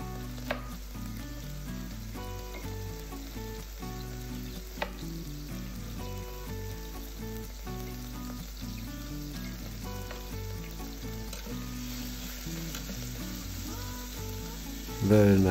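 Beef frying in a pan with olive oil gives a steady, even sizzle that runs throughout at moderate volume, with a few faint clinks of stirring and a louder rustle at the very end.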